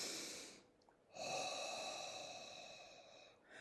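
Deep breath drawn in through the nose, a steady airy inhale lasting a couple of seconds, close and quiet, with a brief pause before it and another breath starting at the end.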